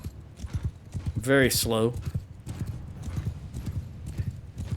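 Horse hooves gallop in a steady clip-clop rhythm throughout, in the Mount & Blade II Bannerlord video game, with a brief vocal-like burst near the start and someone talking over the hoofbeats.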